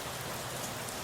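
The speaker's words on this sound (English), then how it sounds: "On this rainy morning" Steady rain falls on a gray early morning, a dense, even hiss of drops on surfaces with no pauses, moderately loud and close, no voices.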